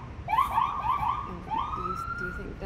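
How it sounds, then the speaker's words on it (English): A police siren in the Life is Strange video game wails in rising and falling sweeps, loud and close, with a brief pause before it resumes. "That's the sound of the police."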